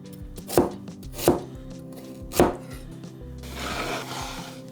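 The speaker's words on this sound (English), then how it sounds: "Make sure that we cut them into 1/4-inch slices" A knife on a cutting board slices vegetables into quarter-inch pieces for Japanese golden curry, three distinct close chops spaced about a second apart, then a softer scraping rustle across the board.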